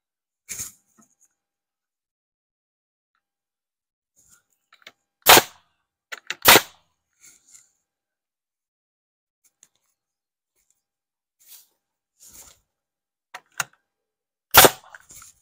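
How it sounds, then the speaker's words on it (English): Sharp, isolated hammer blows drive nails into wooden boards for an egg mobile build, sounding as a few loud, close cracks separated by long quiet gaps with scattered small taps and knocks. "But we'll go ahead and nail it in."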